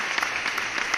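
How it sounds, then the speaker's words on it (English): Applause from a small multiplayer livestream group during a farming game session, a steady, fairly loud patter of clapping that fills the whole short moment without speech. "you're gonna get another round of applause"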